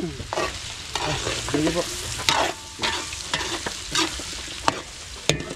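Carrots, potatoes and garlic stir-fry for beef kaldereta, with a spatula scraping the pan in repeated strokes over a steady sizzle, close by, and a brief spoken word.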